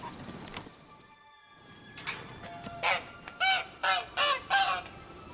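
A caged hen in a Witcher 3: Blood and Wine game scene clucks and squawks in a run of five or six loud, close, rhythmic calls, with quieter ambient noise and faint bird chirps before.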